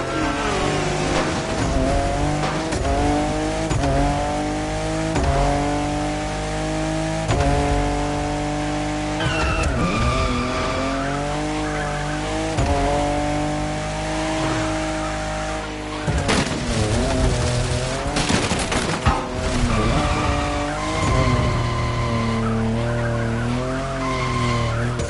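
A car drifts in The Crew Motorfest racing game, its engine revving hard over long sliding tire squeals that rise and fall in pitch, loud and continuous throughout with no talk.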